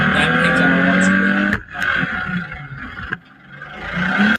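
A derby race car powering through turn three: a steady, droning engine note, fairly loud, that briefly cuts out twice before surging back.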